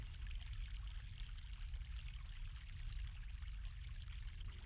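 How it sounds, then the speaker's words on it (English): Fresh mountain water flowing in the video game The Longest Journey, a soft, steady wash of running stream that stays faint and continuous throughout. "Fresh mountain water."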